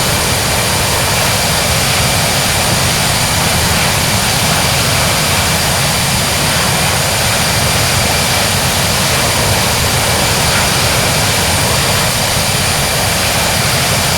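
British Airways airliner jet engines roar at full climb power just after takeoff from Dublin, a steady, loud, broadband rush with a faint high whine held throughout, no voices.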